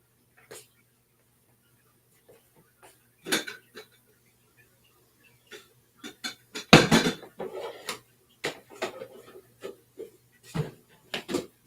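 Silverware being put away in a home kitchen: sporadic metallic clinks and clatters with a few creaks, the loudest clatter near the middle, then scattered lighter taps.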